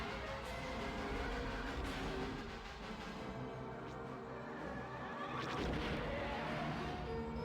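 Continuous rumbling explosions and space-combat noise in Star Wars: Rogue Squadron, a dense, steady wash of blasts and crashes at a moderate, even level.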